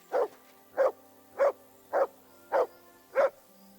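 Mutt, the dog companion in the video game Kingdom Come: Deliverance 2, gives six evenly spaced, clear barks, close and loud over a quiet background.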